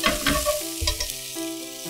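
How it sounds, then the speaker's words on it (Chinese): Vegetables stir-frying in a pan for braised bean curd sheet rolls, with carrots and bok choy, as water is added: a close, busy sizzle with stirring scrapes and a steady tonal hum underneath. "好，我们加入一点水"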